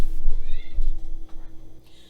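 A cat meows in a kitchen during cupcake baking, giving a couple of clear rising and falling calls close by, with a steady background hum underneath.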